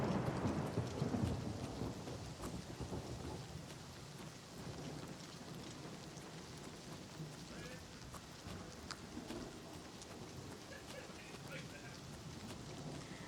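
Steady rain with thunder rumbling in an outdoor scene of the video game The Elder Scrolls IV: Oblivion Remastered, a strong low roll at the start settling into a constant wash of rainfall.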